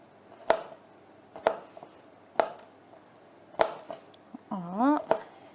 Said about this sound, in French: On va couper des petits bouts de céleri branche.